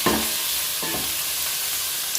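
Shrimp shells hit a hot pan and sizzle loudly with a bright, hissing fry, including a short stirring rustle early on, then a continuous even crackle.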